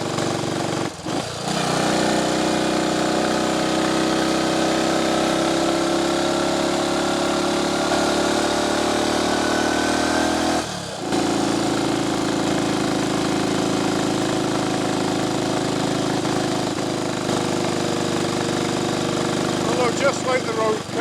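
A Triumph Tiger Cub trials replica motorcycle climbs a lane under steady, loud engine drone, with a brief dip near the middle as the rider shifts from third to fourth gear before the revs pick back up.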